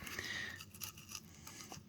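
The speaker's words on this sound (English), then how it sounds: "Just cut as tight as you possibly can right down this side of" A knife saws along the dorsal fin of a black crappie while filleting it, making close, raspy, scraping strokes with small crunches as the blade works through flesh and bone.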